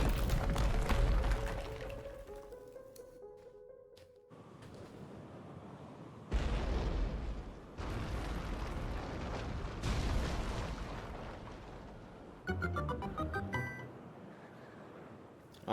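A bomb going off in Zelda: Link's Awakening, with deep booming blasts and crumbling impacts in several loud bursts amid game music and chimes.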